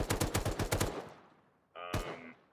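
Rapid burst of automatic gunfire from a gun in the video game Rust, about nine evenly spaced loud shots in quick succession, then a decaying tail and a brief metallic mechanical clack near the end.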